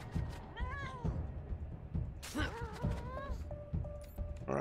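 Cat meows from the video game Wasteland 3, several rising tonal cries spread across the stretch, mixed with game thuds and impacts and someone talking over them.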